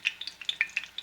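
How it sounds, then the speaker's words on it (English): Diced onion batter drops into hot oil, sizzling steadily with a run of sharp crackling pops spaced through the moment, close and fairly quiet, with no one talking. "you scoop up about half full, and you just drop it in the hot oil"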